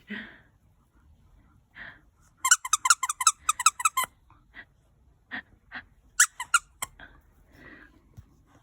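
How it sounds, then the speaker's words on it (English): Rudolph the reindeer plush dog toy squeezed by Madge, the dog, giving bursts of rapid high squeaks in quick clusters, close and loud, with soft panting and snuffling between the squeezes. "She likes to squeeze his tummy to make him squeak."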